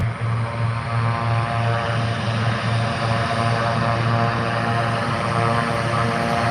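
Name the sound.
turboprop aircraft with Garrett engines taxiing by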